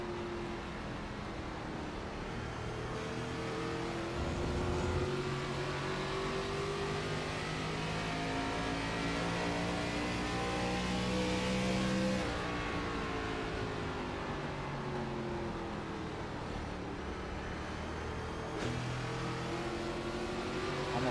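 Race car engine at the Milwaukee oval, held at a steady high drone and then eased and reapplied through the turns, with the pitch sliding up and down and a small dip in level partway through, continuous and fairly loud.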